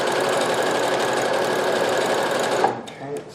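A Brother CP7500 sewing machine runs fast and steady in a continuous whirring buzz, close and loud, then stops abruptly near the end, leaving a few faint clicks.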